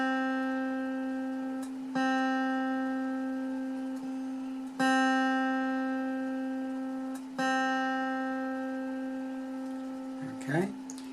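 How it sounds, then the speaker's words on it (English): A guitar's B string, tuned up to a C note, is plucked four times, each note ringing out long and steady and fading slowly. A faint rustle follows at the end. "the B string, is going up to C, so you need to tighten it"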